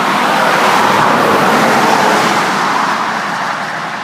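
Steady, loud roar of traffic on State Highway 29 where a rural bike trail crosses near Wittenburg, a vehicle rushing close by and fading slightly at the end.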